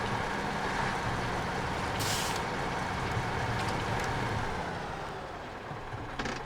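A truck's air brake is set in the video game SnowRunner: a short, sharp hiss of released air bursts over a steady idling engine rumble, with a fainter second hiss near the end.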